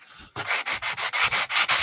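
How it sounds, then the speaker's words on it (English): Repeated back-and-forth sanding strokes on a small wooden heart, about eight even rasping passes in steady rhythm, close and fairly loud with no talking. "So, sand this down a little bit."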